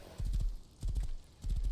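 A horse gallops in the survival video game Rust, its hooves sounding in three quick rhythmic clusters of clip-clop beats close by, with no voices.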